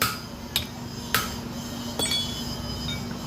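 Metal parts clink and knock with a few sharp, separate taps as a fan is worked into a rewound 5 HP three-stage submersible pump motor, close by with a steady low hum beneath.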